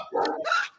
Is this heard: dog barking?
yes